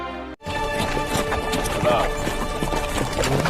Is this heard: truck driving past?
no